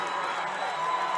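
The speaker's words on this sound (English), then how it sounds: "the South Summit crowd making some noise" A basketball crowd at a South Summit state semifinal game roars in a steady, dense wash of cheering and applause, loud and continuous, with an announcer's voice mixed faintly into the noise.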